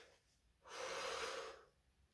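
One deep, slow breath drawn in to fill the floating ribs before trumpet playing, a close airy inhalation lasting under a second in a quiet room.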